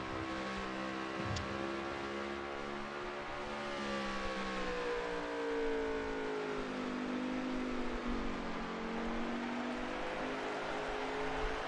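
Race cars in a racing video game at Sonoma, engines wailing in a steady high whine with gear-shift pitch rises and falls, loud and sustained without a break.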